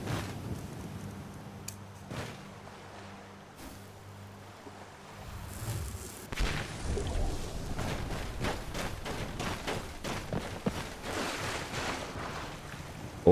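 Splashing and sloshing water from swimming across a river in Skyrim, soft at first and then a run of quick, rhythmic strokes that grow louder and busier.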